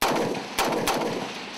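Two sharp, loud gunshots ring out about a third of a second apart during a shooting drill, each leaving a broad echoing tail.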